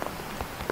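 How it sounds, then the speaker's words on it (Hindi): Heavy rain pours steadily in Kendrapara, Odisha, during Cyclone Yaas, a dense, close hiss of drops striking surfaces. "केंद्रापड़ा में झमाझम बारिश सुबह से हो रही थी मगर अभी इसकी रफ्तार बहुत तेज हो गई है"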